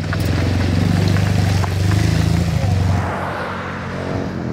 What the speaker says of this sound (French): Une moto là, un KTM, moto KTM.